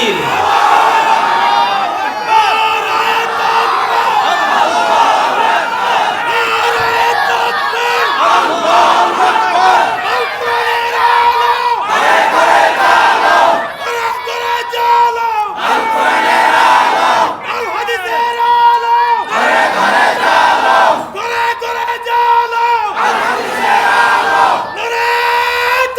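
A large crowd roars in unison in repeated loud waves, answering a preacher's takbir call with chanted Allahu Akbar during a Bangla religious sermon, each surge rising and breaking off with brief gaps between.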